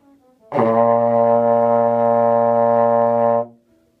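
A single loud B flat on a trombone, held steady for about three seconds with a rich, buzzy tone, then released cleanly into silence.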